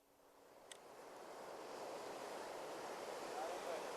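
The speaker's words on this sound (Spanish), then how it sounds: "Escuchad el sonido de este océano. Esas olas." Ocean waves roll in a broad, steady wash of surf that swells slowly louder, heard from a moderate distance with wind-like hiss and no talking.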